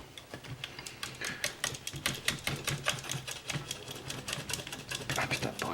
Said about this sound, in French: il va falloir que je coupe la ficelle